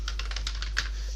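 Rapid typing on a computer keyboard, a quick run of light, close key clicks over a steady low hum, with no one speaking.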